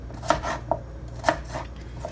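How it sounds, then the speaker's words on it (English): A knife chops yam for a Jamaican ital soup, with several crisp, uneven cuts striking a board, close and distinct against a low kitchen hum. "So I gotta chop it up right quick."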